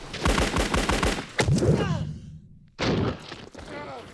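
Rapid gunfire in a war battle scene from the film Born on the Fourth of July: close, loud bursts come in quick strings with short gaps, and voices shout among the shots.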